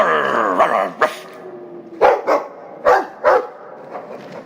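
A dog barks in the video game Dragon Age 2, starting with a low growl and then several loud, close woofs spaced about a second apart, with no talk.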